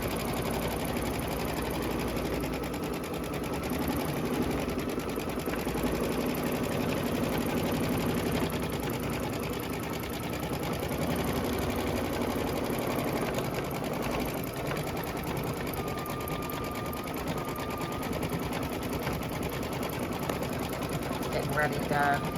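A Kimberbell embroidery machine stitches out a fall pumpkin lace design while running its prep pass before a satin stitch, a loud, continuous rapid mechanical whir and needle chatter close by, with someone talking over it.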